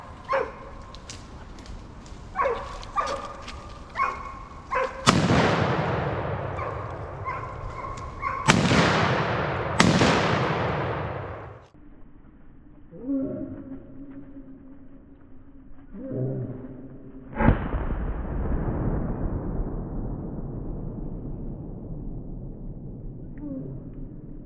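Rifle shots from a Browning BAR4X during a wild boar hunt: three sharp, loud reports with echoing tails, then another shot later, amid barking dogs before and between them.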